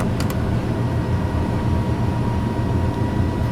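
Airliner jet engines roar steadily during the takeoff climb in Microsoft Flight Simulator on a flight from Cuba toward Jamaica, a constant low rumble with no talking over it.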